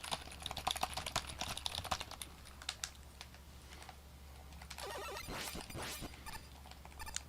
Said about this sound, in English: Keyboard clacking not too bad? Okay. I will make it significantly worse.